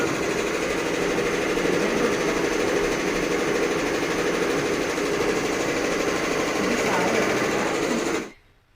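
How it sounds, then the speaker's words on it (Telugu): A computerized embroidery machine runs with a steady, close mechanical whir and hum, holding an even level before cutting off abruptly near the end. "అది నాది కంప్యూటర్ మిషన్ అనమాట. అంటే మన ఎంబ్రాయిడరీ మిషను."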